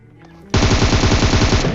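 Rapid automatic gunfire in a video game: after a brief quiet moment, one loud, close, continuous burst of evenly spaced shots runs without a break to the end.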